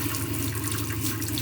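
Water running steadily from a tap into a campervan sink, a continuous close hiss and splash with no pauses.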